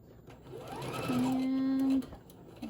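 A sewing machine stitches a fabric bear head, its motor whirring up into a steady, even hum for about a second before stopping abruptly, close and clear with no one talking.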